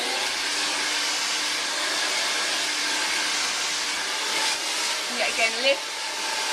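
A hair dryer blow-drying a child's hair over a hairbrush for root lift, a steady loud close whooshing hiss that runs throughout, with someone speaking briefly near the end.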